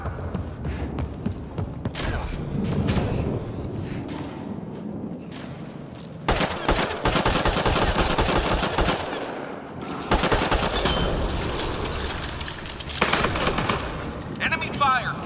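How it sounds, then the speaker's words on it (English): Enemy gunfire in the Mass Effect Andromeda video game: loud, sustained automatic bursts and rattling shots in dense waves, with short lulls between volleys and voices calling out amid the shooting. "Enemy fire! Careful!"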